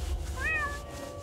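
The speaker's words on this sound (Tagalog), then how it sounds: "Ikiniskis ni Kitty ang tiyan sa aking binti habang umingiyaw." A single short, rising-then-falling cat meow, clear and close over a low background hum, used as a sound effect in a horror story.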